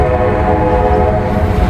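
A westbound freight train rolls past on the line near mile marker 250, a loud, steady, close rumble with tonal horn-like drones running continuously and no talking.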